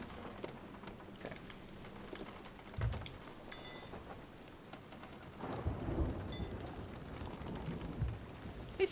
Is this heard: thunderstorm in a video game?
yes